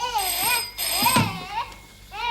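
A telephone ringing with a warbling, repeating electronic tone, loud and close, nearly continuous through the moment.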